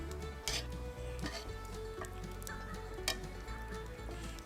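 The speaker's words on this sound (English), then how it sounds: "You take care and melt that butter." Butter melts and sizzles in a hot pan alongside steak tips, a steady soft crackle with faint ticks and an occasional light clink, with no voices.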